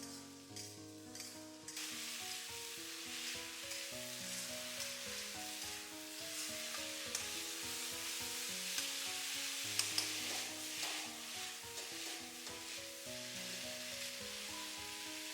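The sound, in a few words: stir-frying green beans in a wok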